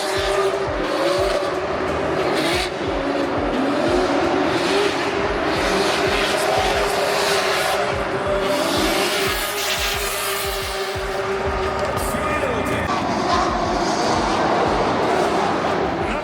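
Drift cars at a Drift Masters qualifying round, a Toyota Supra GR among them, roar steadily at close range with screeching tires and revving engines, sustained loud throughout without a break.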